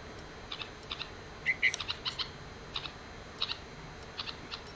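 Birds chirping in trees around a fledgling chick, with short bright tweets in scattered bursts, some paired, heard moderately near over a quiet outdoor background.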